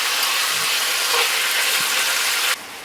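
Bacon frying in a pot for burgers gives a steady, loud, close hiss of sizzling fat that fills the whole stretch and then drops abruptly to a lower sizzle near the end.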